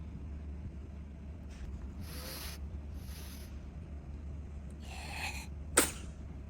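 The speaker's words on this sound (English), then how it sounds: "She was sneezing constantly." A girl's sneezes come through softly in a quiet room, several breathy bursts followed by a sharper final one near the end, against faint background hiss.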